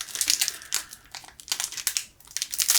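The plastic wrapper of a Pokémon booster pack crinkles and rips as it is torn open from the side, in a string of close, sharp crackling bursts with brief pauses between them.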